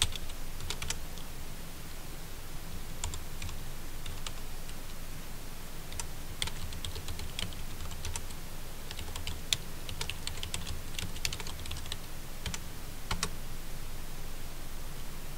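Keys clatter steadily on a computer keyboard during a Windows Server 2008 session, with brief bursts and pauses in a continuous, moderately close tapping rhythm and no voices.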